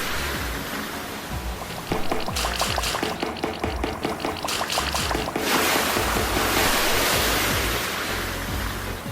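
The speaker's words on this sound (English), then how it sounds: "these pipes that you run under aren't gonna throw water at you" Water sprays and splashes from pipes in the Crazy Party video game, Playroom world, a steady rushing hiss over a busy game soundtrack, with bursts that surge louder in the middle and toward the end.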